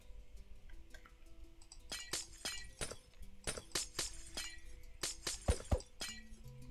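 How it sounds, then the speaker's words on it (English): Glass blocks shattering one after another in Minecraft, a rapid series of bright crisp breaks with short tinkling tails, some spaced and some in quick bursts, with no voices. "Let me break glass on the other side."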